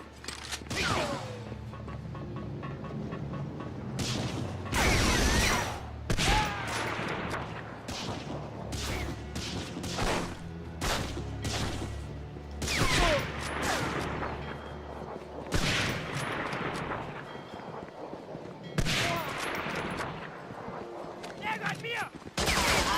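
Rapid gunfire in the PS2 shooter Medal of Honor Frontline, with sharp repeated shots and bursts, some booming, running loud and near throughout, under occasional talk.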